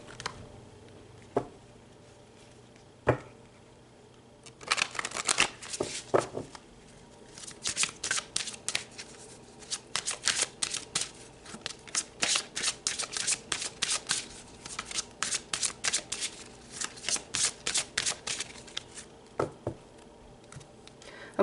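A tarot card deck is shuffled repeatedly, bursts of quick crisp riffling and flapping in clusters with short pauses between them, close and clear, after a few soft taps at the start, with no talking.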